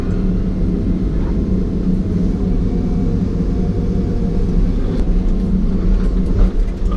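A John Deere 2154D log loader's diesel engine drones steadily and loudly as it hoists a heavy poplar log weighing around 15,000 pounds, a continuous low rumble with no pauses.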